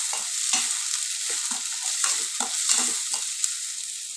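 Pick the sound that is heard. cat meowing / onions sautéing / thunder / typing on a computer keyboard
onions sautéing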